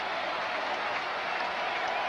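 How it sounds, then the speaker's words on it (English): A dense, steady roar of applause and cheering from a baseball crowd in the stands, a 1987 Expos at Mets game, continuing evenly without a break. "And now an ovation after Galarraga and Burke"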